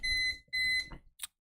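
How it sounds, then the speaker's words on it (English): A timer alarm goes off with two sustained electronic beep tones in a row, followed by a short fainter chirp, fairly quiet and with no talking. "Oh, timer."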